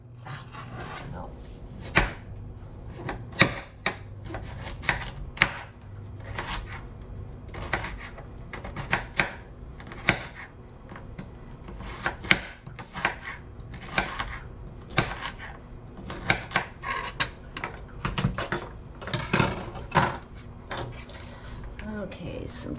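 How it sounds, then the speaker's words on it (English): Sharp knife strikes chopping turkey into smaller pieces on a cutting board in a home kitchen, an irregular series of close thuds over roughly twenty seconds, with faint background noise between strikes. "Chop it into smaller pieces."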